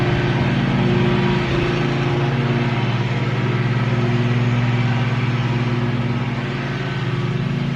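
A lawn mower drones steadily nearby on a residential street, a loud, even engine hum with a faint dip near the end and no talking.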